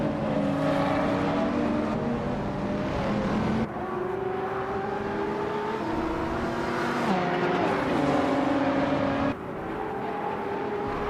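2007 Lamborghini Reventon race cars in a racing video game on the Detroit Belle Isle street circuit, their engines roaring in a continuous loud whine that climbs in pitch and drops back at each gear change.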